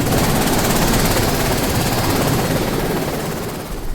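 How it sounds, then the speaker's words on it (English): A military helicopter landing on Mount Pleasant Peak, loud close rotor thrum and engine roar filling the air, steady then easing slightly at the end. "We've just landed at the top of Mount Pleasant Peak, just got off the helicopter"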